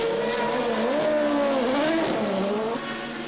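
A lightweight 1982 Toleman Formula 1 car spinning off, its high-revving engine wailing loud and close with the pitch wavering and dipping as it slides, continuous for a few seconds.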